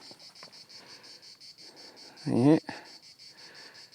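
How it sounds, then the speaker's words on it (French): Cicadas in late July near a Roman bridge and vulture observatory, a dense rhythmic pulsing drone throughout, with a brief louder voice partway through. "Comme vous entendez, il reste encore des cigales."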